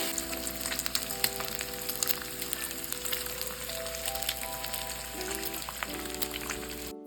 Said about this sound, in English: next you want to fry you about 4 to 6 pieces of bacon for the Brussels sprouts